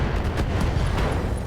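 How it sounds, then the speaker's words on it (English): An ammo explosion in the video game Battletech during urban combat: a rapid cluster of loud, booming blasts and crackling bursts that carry steadily through the moment, with no voices. "ammo explosion"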